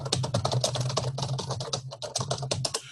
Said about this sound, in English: I'm just typing a note to myself